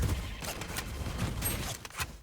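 Gunfire through a wall in the video game Valorant: a steady rattling burst of rapid shots, dense and continuous, with a few sharper cracks toward the end and no voices over it.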